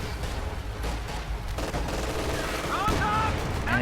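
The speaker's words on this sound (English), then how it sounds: "Firing with the coaxial machine gun." A tank's coaxial machine gun fires in a strategy video game, loud close bursts of rapid shots joined by other gunfire and battle noise, with a voice talking over the action.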